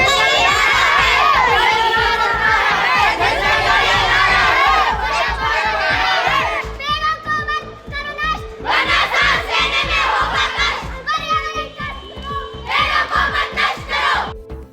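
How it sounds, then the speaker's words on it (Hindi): Schoolchildren from several schools chant environmental slogans at an Environment Day awareness rally, their loud massed voices shouting in rhythmic unison, then breaking into call-and-response phrases with brief pauses. "पर्यावरण दिवस के अवसर पर सुपर मैग्नेट स्कूल, हिम अकादमी public school, Oxford international school, Gurukul public school के बच्चों ने स्लोगन्स और नारों के माध्यम से लोगों को पर्यावरण बचाने का संदेश दिया"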